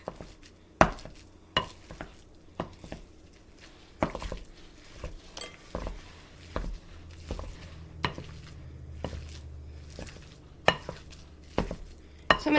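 Food being stirred and mixed in a bowl, with repeated scraping strokes and sharp utensil clinks against the side at an irregular rhythm, close and moderately loud with no talking.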